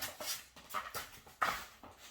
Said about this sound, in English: This dog always finds the most loudest stuff.